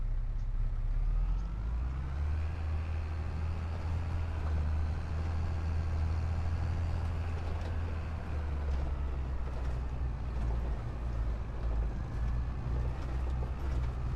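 A large tractor in Farming Simulator 25 runs with a steady, deep engine drone, idling and then holding a constant low rumble for several seconds, moderately loud with no voices.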